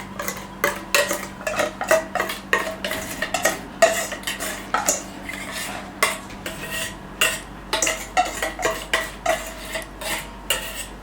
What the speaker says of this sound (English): We're mixing it up till everything is incorporated.